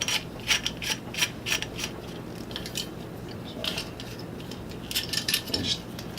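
BattlBox survival shovel sections being fitted together and tightened, giving a string of close metallic clicks, ratcheting scrapes and rubbing knocks in irregular bursts.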